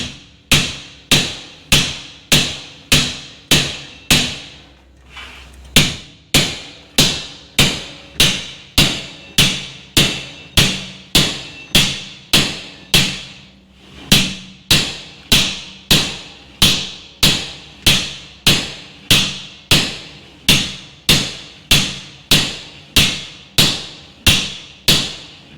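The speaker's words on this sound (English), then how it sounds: "we're going to hammer this ridge" A hammer striking along a ridge on a steel sawblade, loud ringing metallic blows repeated in a steady, even rhythm about once per half-second, with a brief pause near the five-second mark, alone without talk.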